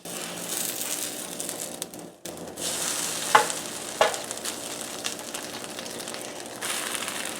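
Muenster cheese sizzling on a grill as it gets flipped, a continuous crackling fry with a short pause, then a couple of sharp spatula clicks and scrapes before the sizzle carries on.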